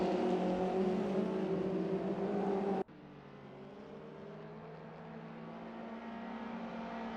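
Race cars in a sim racing game at Snetterton, with engines droning and revving loud and close, then a sudden cut to a quieter engine note that builds steadily again.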